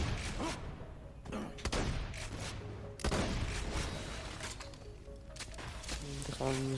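Gunfire and grenade blasts in the shooter Borderlands: The Handsome Collection, a run of sharp cracks and heavy booms with whooshes scattered through the passage, loud and busy, overlapped by talking voices.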